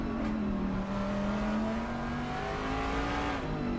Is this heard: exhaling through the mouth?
no